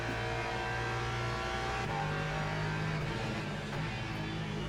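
A race car engine in a sim racing video game revs hard and accelerates in third gear, a loud continuous drone with harmonics that climb and then shift pitch as the throttle changes.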